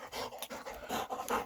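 A dog named Finnegan pants in quick, steady huffs, close and fairly loud, with no talking over it.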